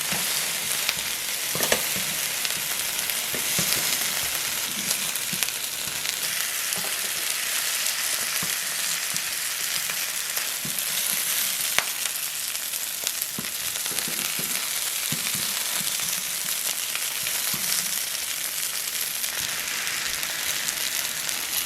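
Onion slices, cut side down and salted, sizzle steadily in a hot pan, a dense continuous crackle with occasional sharper pops and no talk throughout.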